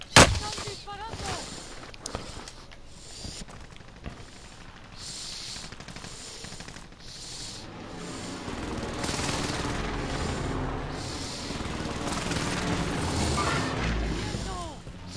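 Repeated gunshots and bursts of automatic fire in a Call of Duty Warzone match, sharp cracks early on giving way to a denser, sustained volley of shots, with a voice talking over the action.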